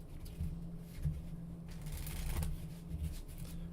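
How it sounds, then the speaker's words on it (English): A deck of playing cards being worked through a Pharaoh shuffle, close and quiet, with repeated soft riffling flutters and light taps over a low hum and no talking. "I haven't practiced beating the Pharaoh shuffle in a while."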